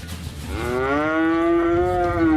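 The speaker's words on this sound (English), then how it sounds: "I absolutely loved working in the farm with the cows" A cow on a farm gives one long, loud, close moo that rises and holds steady for about two seconds over faint background noise.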